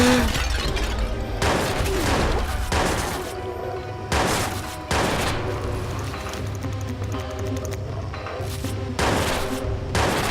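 Gunfire in the Watch Dogs video game during a police car escape, with heavy repeated bursts of automatic fire and loud shot clusters separated by brief pauses, dominating the mix.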